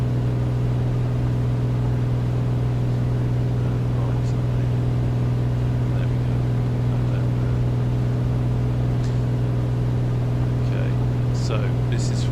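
Lycoming O-540 engine of an A2A Comanche 250 in Microsoft Flight Simulator, flying into a snowstorm, a steady droning hum that holds evenly at a constant pitch under brief scattered clicks.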